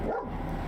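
A short single dog bark or yip, close and fairly loud, lasting under a second.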